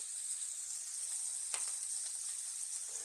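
Steak searing in a pan gives a steady, close sizzling hiss with a few brief crackles and pops, alone without voices.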